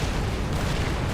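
Dense, continuous rumbling booms of artillery explosions in the real-time strategy game Supreme Commander 2, loud and overlapping with no gaps, like a sustained barrage heard close up.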